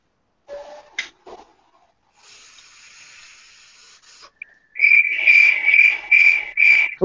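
A person imitates a cricket's chirp by mouth, giving a run of loud, shrill pulsing trills near the end after some quieter rustling and faint hiss, close and fairly loud.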